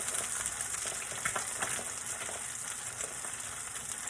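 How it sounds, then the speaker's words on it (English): Eggs frying in a pan for Mexican breakfast enchiladas, a steady close sizzle and crackle of hot oil with light spatters, continuous and moderately loud, no voices. "In the meantime, the eggs are cooking."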